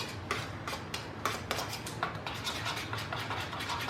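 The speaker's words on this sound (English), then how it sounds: "Okay, so now I'm just going to mix that up." Burger ingredients being mixed in a bowl for homemade burgers, heard as a quick run of clicking, scraping strokes in an uneven rhythm, close by.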